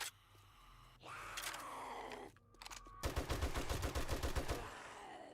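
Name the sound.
gunfire in the video game 7 Days to Die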